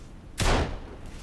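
A single sharp gunshot fired in the survival game Sons Of The Forest: one loud, abrupt crack with a short decaying tail, standing alone over a low ambient bed.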